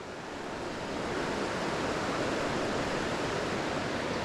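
River water rushes steadily while fly fishing upriver on the Tellico, a dense, continuous broadband wash that stays close and loud throughout with no pauses and no voices.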